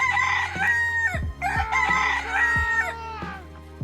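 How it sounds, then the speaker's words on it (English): A cockerel crowing sound effect plays as a loud, near crow with long drawn-out notes, followed by a second crow, over a low steady hum. "And Shadow, who's also summoned a cockerel, which is good"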